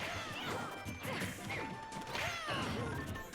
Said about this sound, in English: Right as we say that, Rosa misses a back air and gets up smashed.